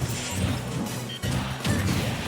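Heavy smashing impacts from down smash attacks in a Super Smash Bros. Ultimate doubles match, two loud crashing hits over a steady arena-like din.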